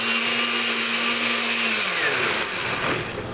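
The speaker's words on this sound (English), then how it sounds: "We're going to put all this through the food processor, and it's going to turn out like this really great green" A food processor whirs steadily as it blends vegetables and cilantro into a green sauce, a loud continuous motor drone that shifts pitch slightly and then eases near the end.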